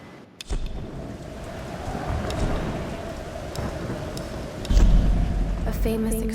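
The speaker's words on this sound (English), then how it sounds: "We're getting closer to the storm." Thunderstorm in the game Tomb Raider: Definitive Edition, with steady heavy rain hissing throughout and a deep rumble of thunder swelling near the end, fairly loud and close.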